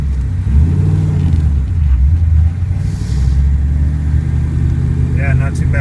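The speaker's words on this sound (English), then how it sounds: "Here we'll crank the wheel and take off" A car moves off from a standstill, its engine droning low and steady at light throttle for the whole stretch, with talking over the rumble.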